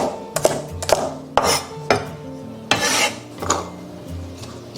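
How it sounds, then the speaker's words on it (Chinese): Kitchen knife slicing garlic and ginger on a cutting board in a restaurant kitchen, several sharp chopping knocks at an irregular pace amid faint background clatter, no talking. "大蒜切片，生姜也切片。"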